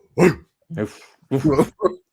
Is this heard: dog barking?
yes